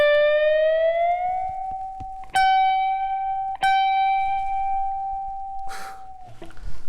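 Electric guitar B string bent up at the 20th fret by less than a whole step, then held. The note is picked again twice while held and rings on before a brief scrape of noise at the end.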